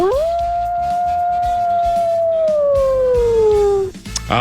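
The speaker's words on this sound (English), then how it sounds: "Let's begin Wednesday with a howl." Loud, sustained howl sound effect played on a sports radio show, a single long rising then gently falling wolf-like wail lasting about four seconds before cutting off abruptly.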